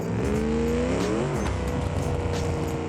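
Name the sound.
car driving in video game BeamNG, manual transmission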